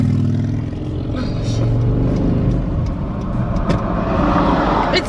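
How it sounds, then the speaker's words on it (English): Road traffic heard from inside a car, a steady engine and road rumble with other cars passing by, while someone talks over it. "Why do we have all this traffic?"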